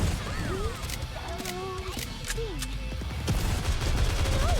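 Rapid gunfire in the video game Nikke crackles in dense bursts alongside whooshing game effects and voice-like tones, loud and steady throughout with no pauses.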